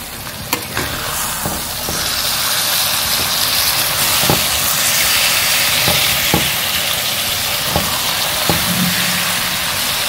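Vegetable curry of bottle gourd with raw mango simmering in oil in a pan on a low stove flame, a steady close hiss and fine bubbling with occasional soft pops and stir clicks, no talk.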